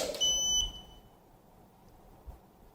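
A shooting timer gives a single short, loud electronic start beep, followed by near silence with a faint low thump.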